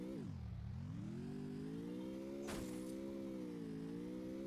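Car driving in the mobile game Free Fire, a synthetic engine tone that dips and then climbs steadily, with one brief sharp burst partway through, close and continuous, no speech.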